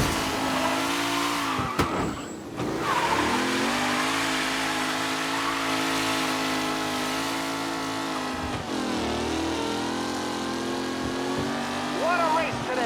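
Race cars in Mafia Definitive Edition rev and roar continuously at close range, engine tones rising and falling with gear changes, with a commentator's voice talking over the racing.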